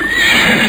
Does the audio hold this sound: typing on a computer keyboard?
no